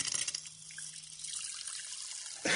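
Carbonated water pours into a glass of red cabbage solution, a close, hissy splutter and trickle that fizzes briefly before a louder splash at the end.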